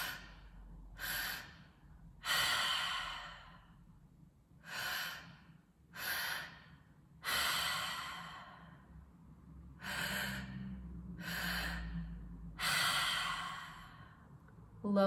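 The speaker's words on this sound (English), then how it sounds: "breathing all through the mouth, low belly, high chest" Deep breathing through the mouth during a guided breathwork exercise, filling low belly then high chest: about ten slow, breathy cycles, each a long airy inhale or sighing exhale, close and clear with quiet gaps between.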